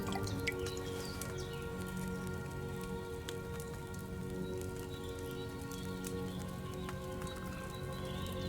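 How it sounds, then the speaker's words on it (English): A potion poured from a flask into a glass phial in a video game, heard as a steady liquid trickle with soft dripping and splashing, continuous and fairly even over a low ambient musical bed. "Get a phial and pour it in."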